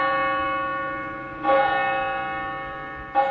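A large bell rings out alone, struck twice more over a long, humming decay from an earlier stroke, each stroke loud and resonant.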